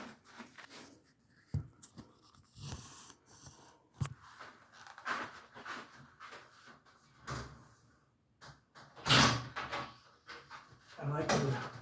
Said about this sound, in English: So I'm going to take the door back down.